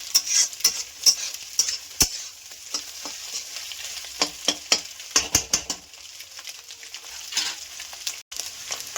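Chicken fried rice is turned in a frying pan with a steady hiss of frying oil, punctuated by a quick series of sharp utensil taps and scrapes against the pan, close by, no voices.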